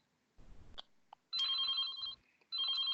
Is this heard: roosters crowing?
no